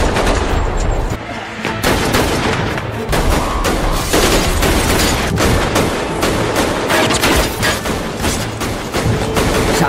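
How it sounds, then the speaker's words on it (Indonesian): Dense, loud gunfire fills a drama shootout, with rapid overlapping shots and bursts in an almost continuous barrage from start to finish. "Baku tembak terjadi dengan Sunhwa yang berusaha melindungi Yeonjun."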